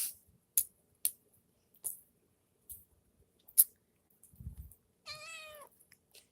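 Cats meow once, a short rising-and-falling cry, after a series of sharp clicks and taps and a brief low rustle, all close in a quiet room.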